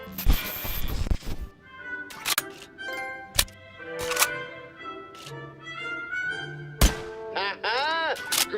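A Simpson gun in a video game fires several sharp, separate thunking shots, with spoken voices in the gaps between them.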